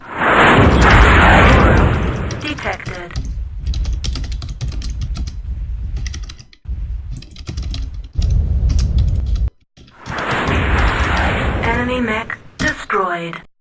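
Explosions from the MechWarrior 2 video game as a mech is destroyed, loud booming bursts with rumbling decay. Several separate blasts come and go over the span, with abrupt silent gaps and a synthetic game voice speaking in places.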